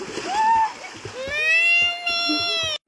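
People splash in a pond where the water is low, with choppy, bursty splashes under overlapping voices, children and adults talking and calling out, and some higher tonal cries among the chatter.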